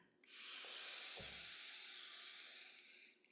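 A deep, steady inhalation through the nose during a breathwork session makes a long, airy hiss that swells in and holds for about three seconds, close and soft, with no talking.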